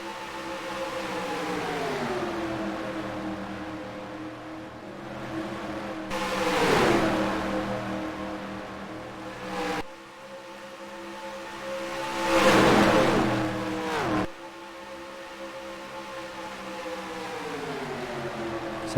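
Race cars roar around a NASCAR Racing 2003 video game oval, a steady harmonic engine drone swelling and fading as cars pass close by in bursts, with abrupt cuts between views and no voices.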